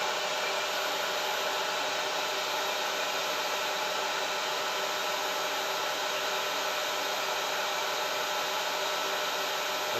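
An AC1 Elite floor cleaner runs its self-cleaning cycle with a constant, loud motor whir and rushing air that holds steady for the full stretch, with no voices.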